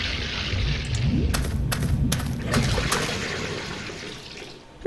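Liquid sloshes inside a heavy, hollow metal-and-glass container in The Book of Unwritten Tales adventure game, with a few splashy surges and a brief watery gurgle.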